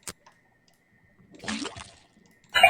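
A faucet in a puzzle video game pours liquid into a cauldron, giving a brief, moderately loud gurgling splash after near silence, with a short click at the start and another burst at the end.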